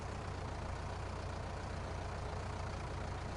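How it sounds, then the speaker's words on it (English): A small tractor engine in a farming video game runs at a steady, low rumbling drone, continuous and even throughout with no talking. "I'm on little tractor."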